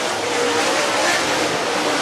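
Dirt late model race cars roar past together at Whynot Motorsports Park, a dense, loud, steady engine wash with no breaks, close by and filling the whole clip.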